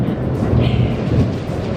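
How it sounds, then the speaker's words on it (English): A loud, low rumble of thunder rolls continuously during a storm at the London Marathon on an extremely hot race day, with no voices over it. "That's thunder and lightning."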